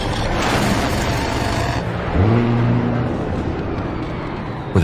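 An enemy anti-aircraft gun blows apart under an A-10 strike in a combat flight game, a loud, sustained broadband blast and rumble that swells around the middle, with a droning tonal hum underneath.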